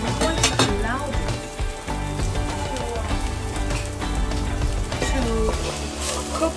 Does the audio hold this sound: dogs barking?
no